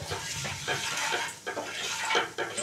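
Bay leaves, cumin seeds and a spoonful of sugar sizzle and crackle steadily in hot oil in a pan, a continuous close frying hiss with brief stirring scrapes.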